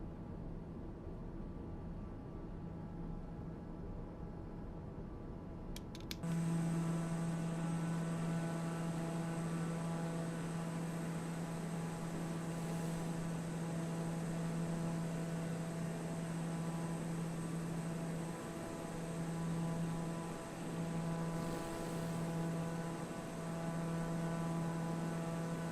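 A propeller airplane's engine in the Tailstrike Air World Tour flight game, a steady droning hum with strong harmonic tones that kicks in loudly after a quiet opening and holds constant.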